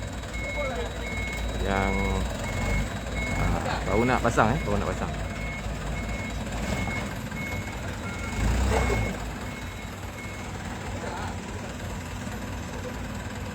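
A lorry that will carry tents backs up while its reversing alarm beeps at an even pace, with an idling engine rumbling underneath. People talk throughout, and the scene is outside the National Palace.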